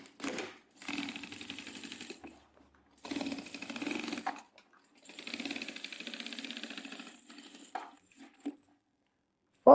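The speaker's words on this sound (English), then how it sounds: "I sewed the first line" A sewing machine runs in several bursts of rapid, even stitching, each lasting a second or two with pauses between, as it sews the first line for 8 mm boning on a bridal or evening gown.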